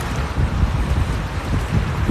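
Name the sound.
wind whipping on a beach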